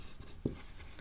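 Chalk or marker writing on a classroom board during a lecture, a single brief firm stroke standing out against quiet room hiss.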